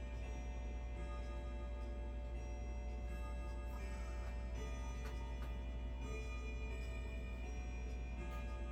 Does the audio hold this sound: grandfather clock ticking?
yes